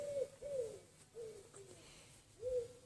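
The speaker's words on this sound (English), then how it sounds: "the pigeon going woo woo" A pigeon coos softly outdoors in a peaceful garden, giving a few gentle hooting notes in a loose rhythm, fairly close but faint, alone without talk.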